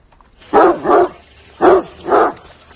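A dog barks four times in two quick pairs, loud and close, with short gaps between the pairs and a faint background hum.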